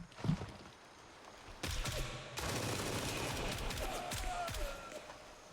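Rapid bursts of gunfire from the Gray Zone Warfare video game in a warehouse area, with sharp repeated shots and dense crackling volleys that build into sustained fire, fairly loud against a busy background.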